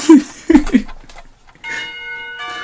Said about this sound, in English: The lunch bell sounds